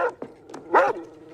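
A dog in a tense movie scene gives a few sharp barks and yips in quick succession, close and loud, with no talking.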